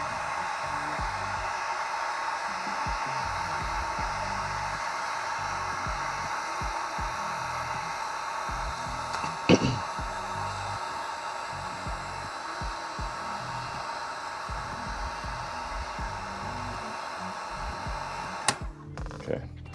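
A heat gun hums steadily and continuously as it dries airbrushed paint on a custom crankbait, a broad even whoosh held for the whole stretch, with a brief knock partway through.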